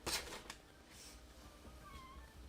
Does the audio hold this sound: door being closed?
no